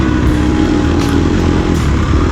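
An off-road motorcycle with a 52-tooth rear sprocket is ridden hard during a race lap. Its engine drones loud and close in a steady, unbroken roar throughout, with no talk.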